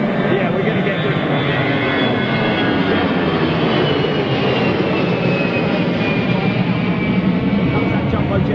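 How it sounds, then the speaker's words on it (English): A jumbo jet roars past at Gatwick Airport, a loud, sustained broadband engine rumble with a rising whine, close and continuous throughout. "Comes that jumbo jet."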